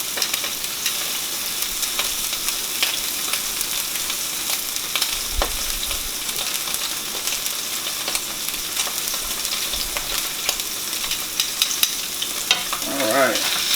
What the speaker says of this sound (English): Get a nice little even sear on there on the outside, all the way around, kind of seal in that moisture